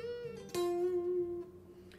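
Electric guitar note on the 10th fret of the 3rd string, a single clean sustained tone picked once after a faint earlier note, ringing close and alone before fading.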